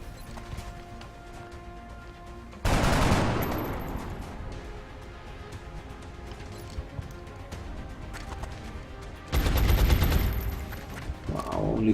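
Gunfire from the video game XCOM: two loud bursts of automatic fire, one near the start and another later, with busy game sound and a sustained noisy rumble between them, no talking.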